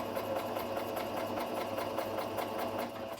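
A home sewing machine runs a steady, fast stitch, its motor whirring with a rapid mechanical rhythm throughout, close and continuous, used to sew a New Look 6737 pattern.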